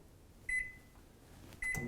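A Panasonic Inverter microwave gives two short, sharp electronic beeps about a second apart while buttons are pressed, each beep clear and close, with a quiet hum and a faint clunk after the second.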